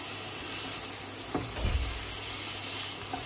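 A steak cooking for Easter gives off a steady, even sizzle with faint scraping or stirring sounds partway through, close up and without any talking.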